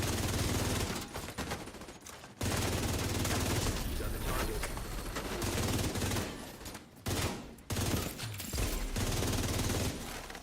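Light machine gun fire from The Division 2 rattles in long, sustained automatic bursts, loud and close, broken by a few brief pauses.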